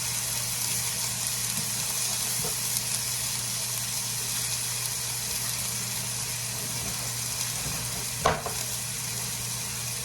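Ground beef browning in a skillet gives off a steady, close, even sizzle throughout, with a sharp clatter near the end as the meat is stirred.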